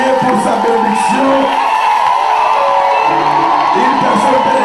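A church congregation shouts, whoops and cries out with joy in a loud, continuous crowd roar, with overlapping voices rising and falling throughout.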